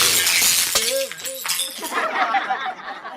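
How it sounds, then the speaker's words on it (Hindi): A glass held in a king's hand shatters as a comic sound effect, a bright crash with tinkling shards over a busy mix of voices and music, with a short sung or wailing tone in the middle. "राजा के हाथ में थमा हुआ कांच का गिलास चकनाचूर हो जाता है"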